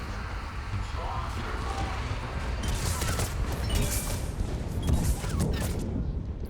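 Gunfire from a gun in the video game Mass Effect 3 rings out in bursts of sharp cracks and booms over a rumbling battle background, with talk present through the stretch.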